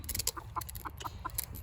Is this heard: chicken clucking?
yes